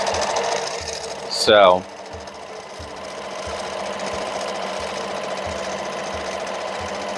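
A sewing machine set up for free motion quilting hums steadily with a regular ticking needle rhythm throughout, after a short spoken word and a brief whoosh near the start.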